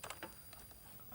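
A few faint, soft key taps on a 1980s home computer keyboard, scattered irregularly over a constant low hiss, distant and quiet with no talking.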